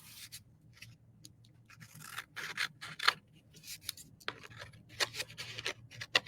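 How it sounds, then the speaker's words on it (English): Scissors snip away the excess edges of a paper napkin, a series of short crisp cuts and papery rustles in irregular rhythm, close up and quiet with no talking. "Real simple cleanup, just cutting away the excess."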